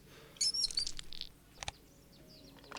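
Bird call of a Brahminy Kite in the Wingspan Asia video game: a short run of high, thin chirps and whistles, then a couple of brief sharp calls, fairly close over a quiet background.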